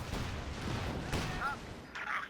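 Stuka artillery barrage in Company of Heroes 2, a dense run of booming impacts and blasts with scattered gunfire over a rumbling battlefield, close and loud, under a caster's voice.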